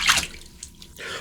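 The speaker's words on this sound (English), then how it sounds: "So I'm gonna rinse off really good here" Water splashing and dripping as a face is rinsed after a wet shave, a couple of short close splashes followed by brief trickling.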